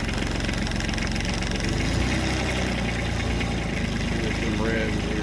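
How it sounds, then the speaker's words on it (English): A farm machine's cold engine cranks over in bad weather and settles into a rough, steady idle, a loud continuous low rumble with knocking vibration close to the listener. "It's a little slow to crank when the weather gets turning bad, so give it a couple seconds and try it."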